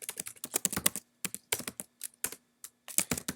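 Rapid typing on a computer keyboard, close and crisp, in bursts of quick keystrokes separated by short pauses, alone without talk.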